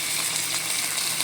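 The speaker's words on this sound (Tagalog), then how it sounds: "Lagyan na natin ng chicken broth." Chicken broth is poured into a pan with pork belly and black beans, a steady bright splashing gush of liquid, close and continuous throughout.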